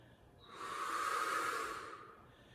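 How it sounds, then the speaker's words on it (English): A single long, breathy exhale during a Pilates tower exercise, soft and close, swelling to a hiss in the middle and then fading out, with no voice over it. "Using that exhale to lift"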